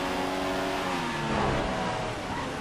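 F1 car engine in F1 2015 at Bahrain, a close, loud, steady whine with climbing and falling harmonic revs as it accelerates, alone without speech.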